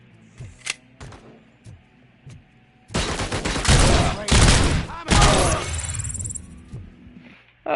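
Rapid gunfire in the RoboCop video game as a thug is shot, a dense, loud volley of shots lasting a few seconds after some quieter clicks and thuds, with no talking.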